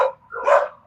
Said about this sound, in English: my dog is excited